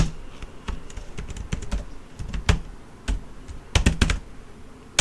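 Keys clatter on a computer keyboard as a bash script is typed, a close, irregular run of crisp clicks with brief pauses and a few louder strikes, no voice.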